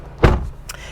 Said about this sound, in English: We're shutting the door here